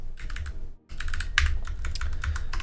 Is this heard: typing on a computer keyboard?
yes